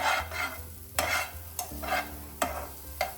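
Spoon stirring carrot fry in a hot pan, repeated scraping strokes about every half second over a soft sizzle, close and moderately loud with no talk.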